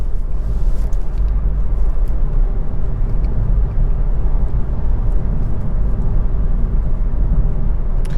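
A car accelerates into its power band around city streets, with a loud, steady low engine rumble and road noise that holds throughout and no voices.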